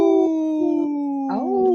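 A person imitating a wolf howl, a sustained wavering vocal howl with a few pitch bends and a rising swoop near the end, close and loud with no other talk.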